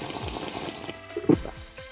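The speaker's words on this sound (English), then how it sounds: "And just add the amount of water of your choosing" Water is poured into a container of energy drink mix, a short splashing, trickling pour over a steady hiss.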